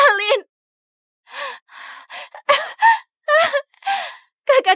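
A woman gasps and pants in short, ragged bursts separated by pauses, struggling for breath, close and fairly loud with strained, voiced catches on several inhalations.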